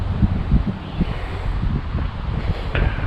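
Wind gusting across an Adirondack lakeside campsite at Meacham Lake, a steady broadband rush with low buffeting thumps and some rustling, close to the microphone throughout.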